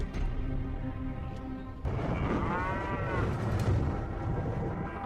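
Cattle moo out in a remote cow pasture roughly three hours' drive north of Phoenix, with drawn-out lowing calls rising over a steady low rumble of outdoor background noise.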